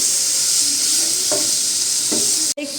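Chicken frying in a pan with soy sauce and vinegar, a steady close sizzle with a few soft scrapes as it is stirred, then a brief drop near the end.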